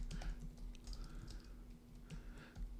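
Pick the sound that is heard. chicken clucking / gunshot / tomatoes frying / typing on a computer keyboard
typing on a computer keyboard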